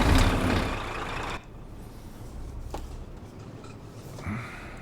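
A truck pulling a hooked-up trailer moves off with a loud hiss of air release, then a steady low engine rumble and road noise that continue with a brief swell near the end.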